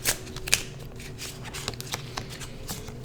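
Tarot cards being shuffled by hand, a soft papery riffling texture punctuated by sharp flicks and taps at irregular intervals, close and fairly quiet over a low background hum.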